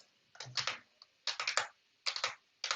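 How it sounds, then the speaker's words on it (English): Fingers typing on a computer keyboard in short quick bursts of clicky keystrokes, close and clear, separated by brief pauses. "I just hit the keys randomly and hope it gets to the right spot."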